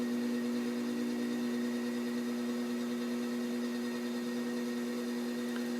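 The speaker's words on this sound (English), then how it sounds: "you want to slow the wheel down a little bit" An electric pottery wheel spins at reduced speed while a wide plate or serving platter is thrown on it, giving a steady, even motor hum with no pauses and no voices.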